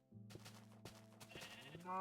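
A sheep bleats in the Minecraft video game, its wavering call heard close and clear over a steady low background of game music or ambience for about two seconds.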